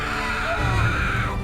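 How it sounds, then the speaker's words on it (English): A woman screams in a film scene as a trapped couple hangs on to a tower in deathly fog, a short high cry that rises and wavers over a low background. "Weiju screams here"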